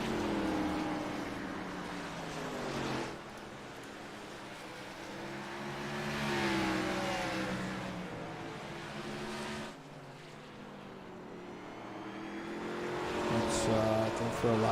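Stock race cars lap the half-mile Martinsville Speedway, engines droning steadily and swelling as they pass through turns 3 and 4, with a commentator talking over the continuous roar.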